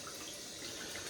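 Hot water runs steadily from a bathroom tap, a soft continuous hiss and splash heard alone at low level.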